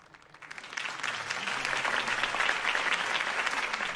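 Steady crowd applause in a video game swells up after a quiet start and keeps going, a dense wash of many hands clapping, moderately distant.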